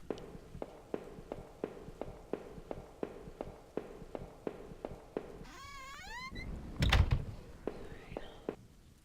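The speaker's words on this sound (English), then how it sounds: "We gotta go down to the trap door." Trap door in the horror game Home: a steady run of soft footsteps leads up to one heavy, close thud, with faint chirping tones around it.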